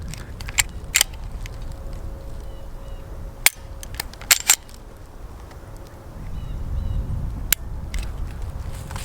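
Springfield Hellcat Pro pistol fired at an outdoor range, heard as sharp, sudden cracks scattered across the clip, some single and some in close pairs, over a low steady background rumble.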